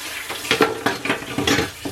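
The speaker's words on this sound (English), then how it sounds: "I'm just gonna wash up my dishes" Dishes being washed in a home kitchen sink while taco dinner cooks nearby: irregular clinks and clatters of plates and cutlery against a steady wash of running water, fairly close, with no talking.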